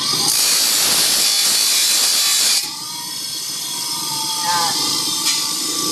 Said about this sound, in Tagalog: Tapos dadaan sa grinder.